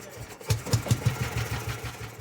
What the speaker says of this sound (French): Quand le moteur démarre enfin